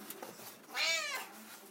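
A pet cat lets out one clear rising-and-falling meow late at night, close by and moderately loud against a quiet room.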